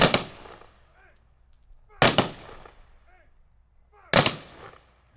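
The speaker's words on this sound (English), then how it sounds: "The American Legion Post 32 Honor Guard, under the direction of Larry Fenner, will load and fire 3 volleys." Three loud rifle volleys fired by an American Legion honor guard at an outdoor Memorial Day ceremony, each a sharp crack with a fading echo, spaced about two seconds apart.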